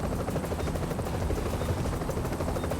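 Helicopter waiting at an extraction point in The Division video game, a steady loud rotor drone and engine rumble filling the scene without a break.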